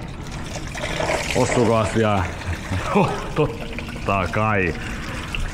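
Coolant pours and trickles out of a Toyota Proace engine during a water pump and timing belt replacement, a steady close-up stream running under a man's speech.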